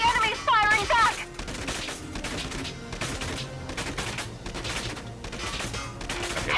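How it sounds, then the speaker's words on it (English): Enemy gunfire rattles in Valkyria Chronicles 4, a dense burst of rapid shots at the start followed by continued crackling fire and impacts. "The enemy's firing back!"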